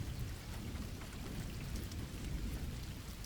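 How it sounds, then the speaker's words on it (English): Heavy rain falls steadily in a dense, continuous hiss with a low rumbling undertone, even and unbroken, with no voices. "The rain continued to fall relentlessly"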